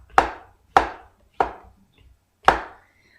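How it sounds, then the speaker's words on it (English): A knife slicing big mushrooms very thinly on a board for an omelet, four crisp separate chops spaced about half a second apart, close and clear with nothing else heard. "I'm slicing these mushrooms ever so thinly."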